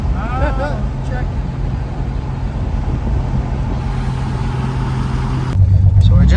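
A once-abandoned 1974 Pontiac Ventura drives and pulls up to a stoplight, its engine a steady low drone that swells into a louder rumble near the end, with voices faintly underneath at the start.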